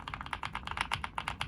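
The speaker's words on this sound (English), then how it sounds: "KN85 mechanical keyboard." Typing on a Kizent KN85 mechanical keyboard, a quick, fairly even run of crisp key clicks, about a dozen strokes, soft and close with no talking.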